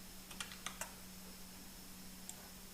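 Quiet computer keyboard clatters with a short burst of four or five quick keystrokes while PHP code is written, then a long pause and one last isolated tap over a faint steady hum.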